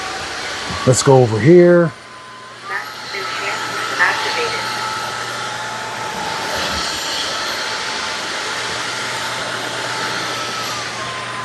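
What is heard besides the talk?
Narwal S20 Pro wet-dry vacuum running while cleaning a stain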